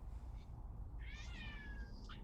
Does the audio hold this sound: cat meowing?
yes